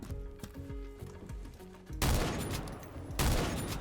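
Bursts of automatic gunfire from the Roblox shooter Phantom Forces, two dense rapid volleys of shots after a stretch of quieter game sounds and music, loud and close.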